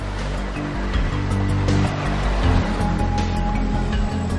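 Sea surf rolling onto a wide, open, windswept beach, a steady broad wash of breaking waves with a constant roar and swells that rise and fall, heard alone.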